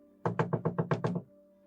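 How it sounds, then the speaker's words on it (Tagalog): Six quick, evenly spaced knocks rap on a door in a tense night scene, close and fairly loud, followed by a low hum with no voices. "Kumakatok ng ang aswang"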